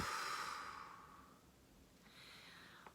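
A single deep exhale during a guided breathing exercise: a long, close breath out that fades away, followed by a softer second breath, with no talking over it.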